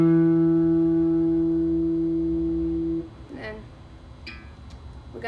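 A single open guitar note rings on the D string with the third finger fretting the second fret, a sustained harmonic tone that decays for about three seconds, followed by faint fret and handling noises.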